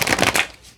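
Tarot cards being shuffled by hand, a close, brisk riffle of rapid papery flutters lasting under a second and tapering off at the end.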